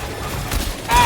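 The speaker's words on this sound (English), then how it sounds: "This shotgun isn't doing any damage." A shotgun fires in the video game Death Stranding 2, with two short, close booming blasts about half a second apart.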